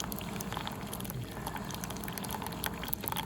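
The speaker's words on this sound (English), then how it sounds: "Let me close this Keurig and get this thing fired up" Keurig coffee maker brewing dark roast coffee, giving a steady close hiss with bubbling and gurgling throughout, no talk.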